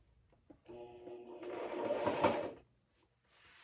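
A sewing machine stitches a straight line on a jacket patch, a single steady mechanical whirring run of about two seconds that builds then stops, close and fairly quiet, with faint clicks before and after.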